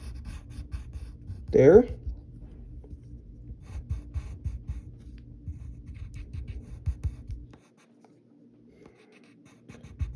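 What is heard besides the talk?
pencil drawing a cartoon foot on paper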